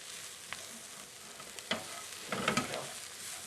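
Vegetables stirred with dried thyme in a soup pot for a southwest chicken soup, giving a low sizzle under scattered scraping and clacking stirs, the busiest stretch near the middle.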